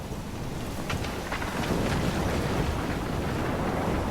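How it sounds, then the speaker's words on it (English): Thunderstorm in the Life is Strange game, a dense rush of wind and rain with low rumbling, steady and enveloping, with a few sharper gusts or cracks early on. "I'm trapped in a storm?"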